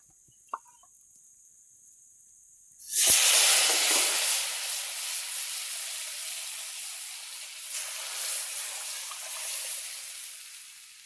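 Curry leaves dropped into hot oil for tempering burst into a loud crackling sizzle that begins abruptly and then settles into a steady hiss, nearby and without talk, while cooking desi chicken curry in a village kitchen.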